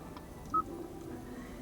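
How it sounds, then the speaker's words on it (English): A single short electronic dial tone beeps faintly from a 2020 Hyundai Santa Fe 2.2 CRDi infotainment phone screen over a quiet cabin hum. "You can dial the number."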